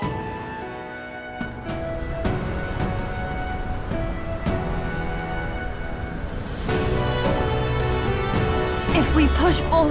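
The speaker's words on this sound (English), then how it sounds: "This storm itself is a maelstrom of pure magla." Heavy storm rain pours steadily in the fantasy RPG Metaphor: ReFantazio, a dense, loud hiss with rumbling thunder and crackling strikes rolling through it, and music and game effects layered over the top.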